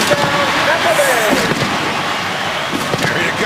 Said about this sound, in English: They're firing the cannons.